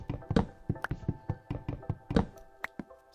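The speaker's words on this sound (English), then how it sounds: "Let's go chop down a little more wood" Wood being chopped in a survival video game, a steady run of sharp knocking strikes about three or four per second, close and crisp, each hit cutting off quickly.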